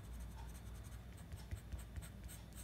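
A darkest black pencil shades on paper with a steady, quiet scratchy rasp, broken by a few slightly firmer strokes and taps near the end.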